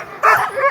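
Sled dogs at the Knik 100 sled dog race in Alaska give a short burst of excited barking and yips, fairly close and loud, in a brief outdoor moment.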